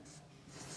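Pen or marker scratching out numbers across a surface while working a class 7 exponents math problem, a short continuous rubbing stroke heard up close with no talk.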